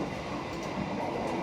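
A passenger train runs on rails in Indonesia, between Jakarta and Bandung, with a steady, continuous rumble and rolling wheel noise heard from on board, loud and even throughout with no voices.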